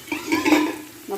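Onions sautéing in a pan as greens are about to go in, a soft sizzle with stirring scrapes and a brief clatter of utensil against the pan, close by and short.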